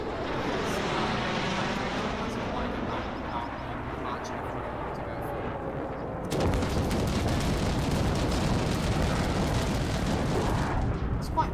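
Bombers strike in an online multiplayer video game tournament, with a low droning aircraft roar that gives way to a sudden loud burst of explosions and gunfire rumbling on for several seconds, with voices talking throughout.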